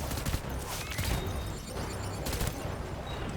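Rapid bursts of gunfire from the video game Death Stranding, sustained and dense across the whole stretch with sharp cracks standing out, at moderate loudness with no talk over it.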